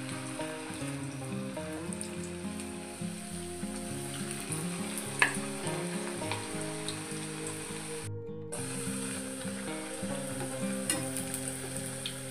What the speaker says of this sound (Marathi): आता या पुऱ्या या तेलामध्ये सोडून घेऊ।